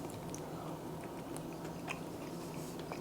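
Close chewing of a fish taco, soft continuous wet mastication with faint crunchy bites and small clicks, no talking.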